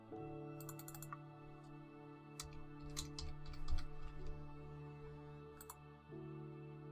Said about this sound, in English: I'll just type in random areas where you'd expect to hear Aloha